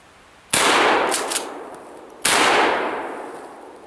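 Two loud, close shotgun blasts from a Mossberg 500 12 gauge firing high-brass military loads, each a sharp crack with a long decaying echo, spaced under two seconds apart.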